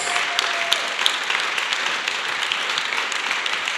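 A church congregation applauds steadily in praise as a preacher approaches, a dense sustained wash of many hands clapping with a few sharper claps near the start, loud and close.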